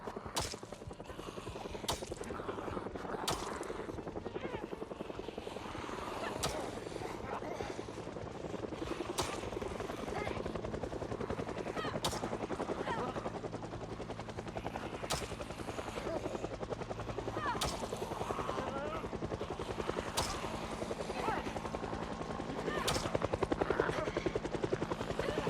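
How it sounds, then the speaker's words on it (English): Helicopter in the Project Zomboid video game flying overhead, a steady rotor drone holding at moderate level throughout with a slight swell near the end, mixed with other game sounds. "You ever just forget the helicopter exists?"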